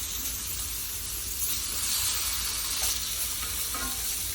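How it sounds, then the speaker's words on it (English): Thinly sliced vegetables frying in oil in a pot for a zucchini and potato Ukrainian stew, giving a continuous even sizzle and hiss throughout. "Fry these until they caramelize and turn brown"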